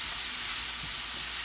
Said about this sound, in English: I'm just going to give these a little stir, just to make sure that they start cooking a little bit.